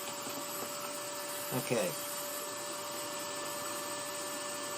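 Steady drone of a vacuum dust collector running in a woodcarving shop while a rolling pin is carved, a constant hum throughout with a brief spoken word partway through.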